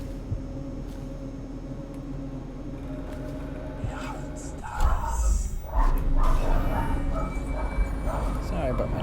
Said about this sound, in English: Sorry about my doggos